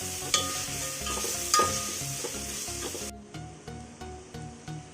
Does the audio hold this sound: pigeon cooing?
no